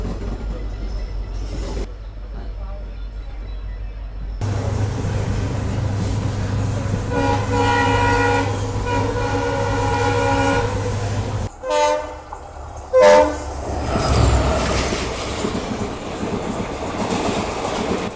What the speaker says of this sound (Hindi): वैसे ये लग तो रही है कोई पैसेंजर ट्रेन ही